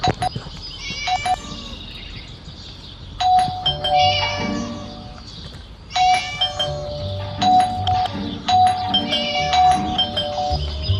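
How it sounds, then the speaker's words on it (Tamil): A doorbell rings in the Scary Teacher video game, its chiming ding-dong repeating several times in loud bursts, mixed with cartoonish cat meows and caterwauling. "That stupid bell again."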